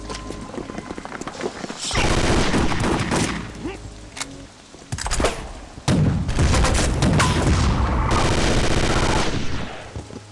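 Uzi submachine gun fire in the video game Chaser, loud rapid bursts of automatic shots separated by brief pauses, with clattering and booming effects in between.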